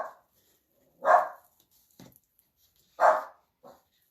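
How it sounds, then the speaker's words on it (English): Murphy the dog barks a few times, short sharp woofs spaced about two seconds apart with small softer yips in between, close by and alone. "Murphy boy, my baby, he's barking."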